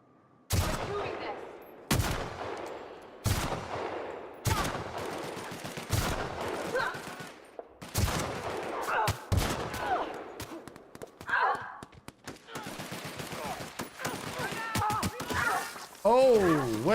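Gunfire in The Outer Worlds: a series of sharp, loud shots spaced roughly every second or two, followed by quicker bursts, with occasional voice sounds between them.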